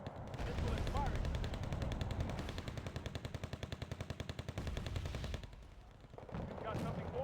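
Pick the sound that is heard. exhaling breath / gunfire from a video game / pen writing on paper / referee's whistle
gunfire from a video game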